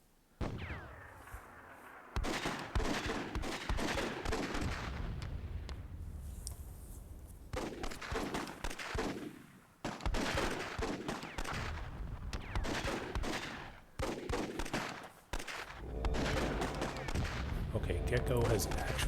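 Gunfire in a Myth II Soulblighter WWII-themed multiplayer flag battle, dense bursts of rapid shots and explosions in dense rolling volleys with brief gaps, loud throughout while a commentator talks over it.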